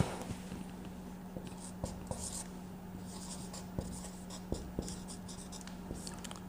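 Chalk or marker writing on a classroom board, crisp scratchy strokes in short irregular bursts with occasional sharp taps, close and clear over a faint steady hum.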